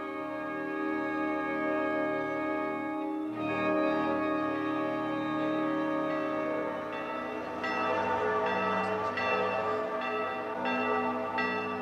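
A large church bell in Florence tolls with a deep, humming resonance that lingers between fresh strikes, ringing out loud and alone.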